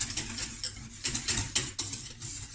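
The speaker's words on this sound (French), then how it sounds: "Énergiquement, je passe mon fouet sur toutes les parois" A whisk scraping briskly around the sides of a saucepan as pastry cream thickens on the heat, producing quick, irregular metallic scrapes and clicks that sound close and fairly soft, with no voices over them.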